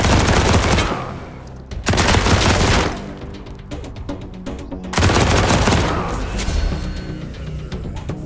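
Wasteland 3 gunfire in two loud, sustained bursts of rapid automatic shots, each lasting about a second and separated by a brief dip, with a third burst rolling into a long echoing tail.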